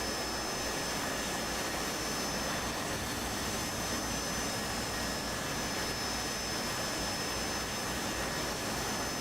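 A Harrier jet aircraft engine roaring steadily and loudly, a continuous dense broadband rush with high whining tones throughout and no pauses.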